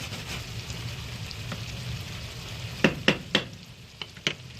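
Food frying in a pan while a cheap family meal cooks, a steady low sizzle throughout with a few sharp crackles and pops near the end, no talking.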